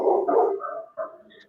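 A small pet dog barks and yips close by, a short burst of vocalizing that tapers off, then a brief higher yelp at the end.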